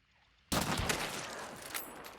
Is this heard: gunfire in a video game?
yes